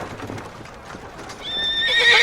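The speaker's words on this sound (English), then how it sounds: "your horse is nervously bucking underneath you" A nervous horse shifts and stamps with muffled hoof thuds, then lets out a short, high whinny at the end, fairly close and without talking.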